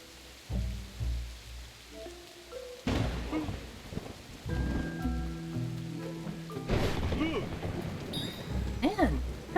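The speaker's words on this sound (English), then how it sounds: "there's a lot of lightning in just this one little space" Rain and rolling thunder in the game Snufkin: Melody of Moominvalley, steady rainfall broken by several loud thunder crashes and rumbles, with faint tonal game sounds layered over the storm.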